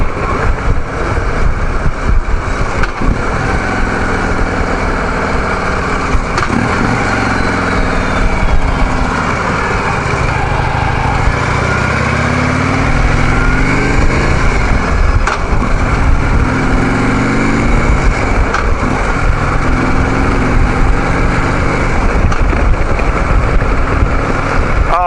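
A Harley Davidson Street Glide Special motorcycle rumbles steadily while riding, its low engine drone continuous and fairly loud with wind noise throughout, no voices.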